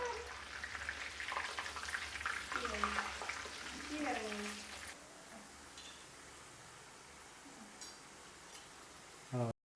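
French fries frying in hot oil in a home kitchen, a steady bubbling hiss that runs throughout, with a voice talking over the first half and a short louder clatter at the very end.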